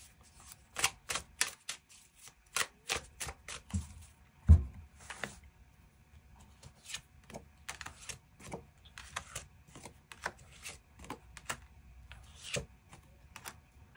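Tarot cards are shuffled and handled up close in a quiet room, giving a string of crisp, separate clicks and flutters in uneven bursts, plus one duller thump partway through.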